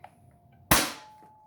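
A foam dart blaster fed by a Worker 18-round magazine fires a single shot, a sharp loud pop with a short decaying tail after quiet handling noise.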